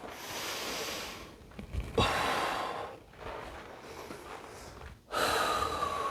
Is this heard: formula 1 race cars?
no